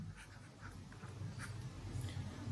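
A hand writes out a ratio and proportion math solution, making faint, close scratching strokes in short bursts against a quiet room.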